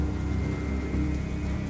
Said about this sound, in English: The rain taps a mournful rhythm on the decaying roof